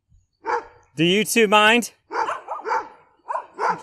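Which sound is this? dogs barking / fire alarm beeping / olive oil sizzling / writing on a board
dogs barking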